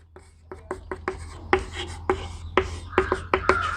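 Chalk or marker tapping and scraping across a board in short bursts while a definition of boiling point elevation is written out, with a steady low hum underneath and no talk.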